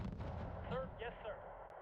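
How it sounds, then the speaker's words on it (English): M109 self-propelled howitzers firing in the war strategy game Wargame: Red Dragon, a muffled, faint boom rumbling low beneath a background of soft game audio. "But I wanna keep these M109s firing."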